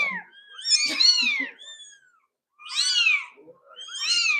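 Young kittens mew in high, thin repeated cries, several calls close together then a pause before more, loud and near with no talking.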